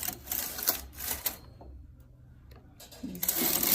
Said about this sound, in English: So I'm going to come to my carriage and set my carriage to hold. Okay, and now I'm going to knit one row